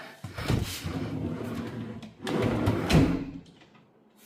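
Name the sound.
soft-close kitchen cabinet drawers closing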